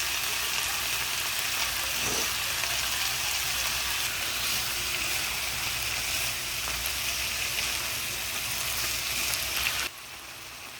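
Cabbage and carrot sizzle steadily in a hot pan for Maggi veg noodles, a loud, continuous crackling hiss that holds without pause, then drops abruptly to a quieter hiss near the end.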